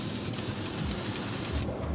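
An airbrush sprays paint from its nozzle in a steady, even hiss heard up close, cutting off abruptly near the end.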